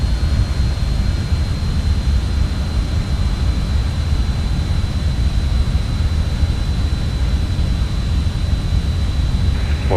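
Just Flight RJ jet engines spool at climb thrust in Microsoft Flight Simulator, a loud, steady low rumble with a thin constant whine above it, continuous and without talk.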